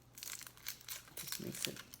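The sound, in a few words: peeling outer skin off a vegetable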